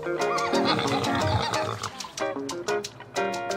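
Horses on a family farm whinny and snort loudly up close, with layered animal calls and some rough, grunting noise in the mix, briefly dipping before a final strong neigh.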